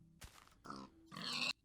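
A Minecraft Alpha pig gives three short grunts in quick succession, close and fairly quiet, the last one longest and brightest.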